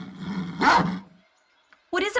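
A dog in the Baldur's Gate: Siege of Dragonspear game gives a short burst of barking and growling mixed with game voices and music, then a pause and another brief sound at the end.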